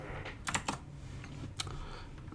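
A computer keyboard gives a few quiet, close key presses: a quick cluster of taps followed by a single tap after a short pause, with no talk.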